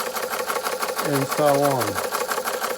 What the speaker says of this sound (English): Very strange valve mechanism on it. It's called a uniflow engine.